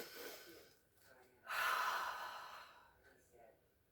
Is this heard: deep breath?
yes